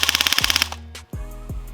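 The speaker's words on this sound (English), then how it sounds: "So every time a BB is fired, that bolt has to go back and forward." A Lancer Tactical ARC electric blowback airsoft carbine fires a rapid burst of about a dozen snappy shots, followed by a brief pause and a couple of mechanical clunks, loud and close.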